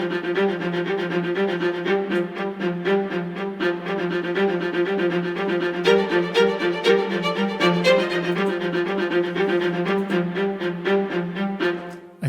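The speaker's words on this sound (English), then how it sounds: "And the track opens with this Kinetic Viola." A Kinetic Viola sample library voice holds a single G note that warbles with shifting pitch, a steady sustained bowed string tone filling the passage without pause.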